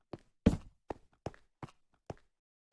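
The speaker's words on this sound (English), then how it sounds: "you could hear footsteps on the stone behind him" Footsteps on stone in Minecraft, six or seven separate soft thuds at an uneven walking pace, fairly close and quiet against near silence.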